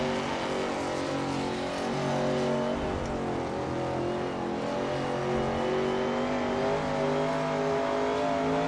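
A vintage Ferrari racing car in Assetto Corsa holds a steady, loud engine drone at high revs along Spa Francorchamps' Masta straight, with no talk over it.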